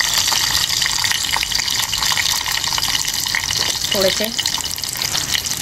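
Garlic dropped into hot oil that was used once before for frying, giving a steady broadband sizzle and hiss that runs through the whole clip, with someone talking briefly over it.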